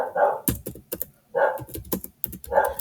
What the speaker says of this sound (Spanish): mis perritos se quisieron hacer presente